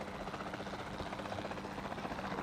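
Helicopter in flight over a dinosaur park in Jurassic World Evolution 2, its dense rotor chop and engine roar steady and loud throughout.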